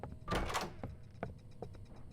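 A door opens with a loud whooshing creak in Roblox Doors, followed by a few soft thuds and footstep-like knocks fading into a quiet room.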